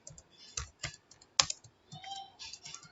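Keys clack on a computer keyboard during data entry in TallyERP9 accounting software, a handful of separate, uneven taps close to the microphone with one sharper stroke in the middle and quiet gaps between.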